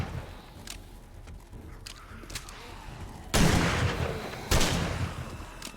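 In the zombie survival game 7 Days to Die, a shotgun fires two loud, booming blasts about a second apart. Each blast has a long ringing tail, and fainter game sounds and movement play underneath.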